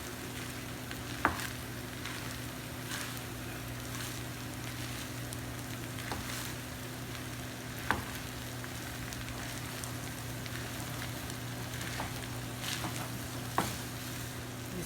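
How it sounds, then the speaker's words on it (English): Egg, peas and carrots fry in a hot pan for shrimp fried rice, a steady close sizzle with occasional soft scrapes and clinks of stirring, no voices. "now we're ready to add the egg and the peas and carrots and mix"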